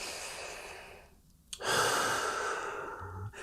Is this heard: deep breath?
yes